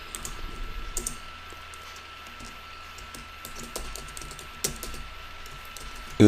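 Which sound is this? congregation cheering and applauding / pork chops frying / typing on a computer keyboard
typing on a computer keyboard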